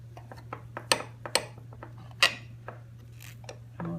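A knife slices into a cooled loaf of zucchini bread, giving soft sawing scrapes and a few sharp clicks of the blade against a pan or board, close and quiet over a steady low hum, with no talking.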